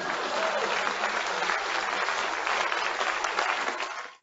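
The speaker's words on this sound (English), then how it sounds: "Please clap." A crowd breaks into sustained applause, a dense wash of clapping that holds steady for several seconds before cutting off abruptly.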